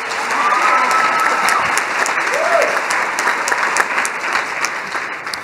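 Sustained applause from a large audience at a university welcome day ceremony, honouring the university choir, with dense steady clapping filling the hall and some cheering over it.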